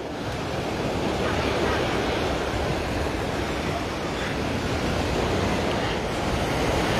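Ocean waves at Waikiki beach, Hawaii, a constant loud wash of surf blended with gusty wind noise, with no clear breaks between waves.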